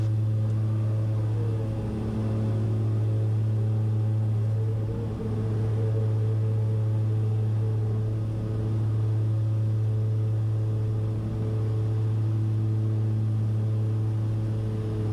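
Twin turboprop engines of a King Air climbing out from Beaver Island drone loud and steady inside the cabin, a constant deep hum with layered harmonics and slight periodic swells.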